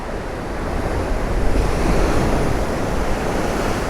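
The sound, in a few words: rough sea waves at Puerto de la Cruz, Tenerife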